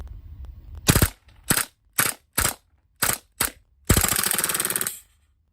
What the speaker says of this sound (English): see how many rounds we can get full auto with this before it runs dry